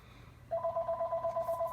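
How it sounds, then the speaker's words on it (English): A telephone rings indoors with a steady repeating electronic trill, clear and moderately loud, starting partway through over a low background hum. "ignore the phone ringing"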